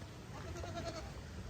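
A single short goat bleat rises briefly over quiet outdoor background noise, fairly faint and close.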